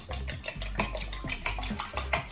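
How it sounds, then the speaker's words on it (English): Eggs are beaten briskly in a bowl for a fluffy omelette, with a fast run of rhythmic whisking clicks and taps of metal against the bowl, close and clear with no talk. "You beat the egg a little bit."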